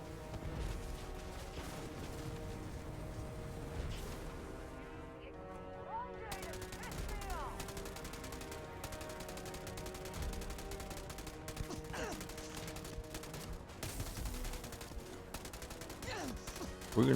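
Gunfire in the sci-fi video game Starfield, dense fusillades of rapid shots and mechanical clatter running continuously amid game music and effects, with a voice speaking at times.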